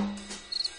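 A short cricket chirp from a soundboard effect, a quick pulsing trill of a few rapid beats, brief and fairly clear after a faint lead-in.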